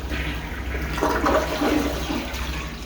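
A toilet in a bathroom under renovation flushes with a loud rushing gurgle of water that swells midway and then settles into steady refill noise, with no one talking.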